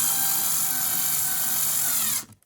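A cordless screwdriver whirs steadily, driving a small screw into a Tamiya TT-02T lower arm, a close continuous motor whine that stops abruptly at the end.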